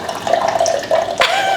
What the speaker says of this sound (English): we're gonna push the CO2 handle down so it can fill up with the fuzziness